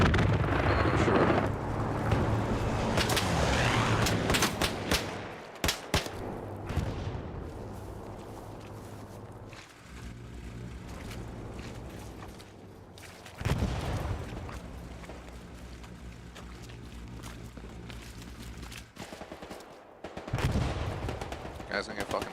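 Gunfire in the World War II online shooter Hell Let Loose, with dense bursts of shots and booming blasts in loud stretches separated by quieter lulls, while someone talks over parts of it.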